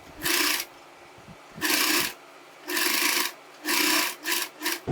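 A sewing machine stitches a churidar neck in several short bursts of whirring, close and fairly loud, with brief quiet pauses between runs and a quick double burst at the end.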